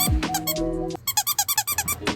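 Squeaky toy nose on a homemade bunny fursuit, pressed repeatedly: a few longer squeaks, then a quick rhythmic series of about eight short squeezes, close and clear.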